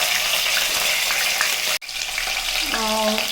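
Cumin seeds and chopped green chillies hit hot oil in a pan, giving a loud, steady sizzle and crackle that briefly cuts out, then resumes with a faint tonal ring near the end. No voice is heard.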